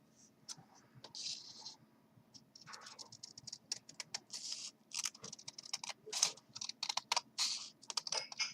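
Scissors snip through folded paper snowflakes in quick, irregular bursts of crisp cutting and rustling, close and busy, with a voice talking softly underneath.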